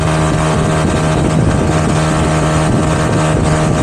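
A little ET4 scooter engine drones steadily at part throttle during a road ride, a continuous loud hum with a low tonal whine, mixed with rushing wind noise and no pauses.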